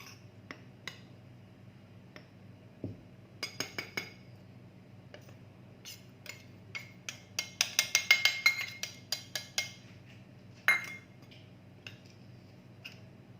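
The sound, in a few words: mixing cocoa powder into flour in a bowl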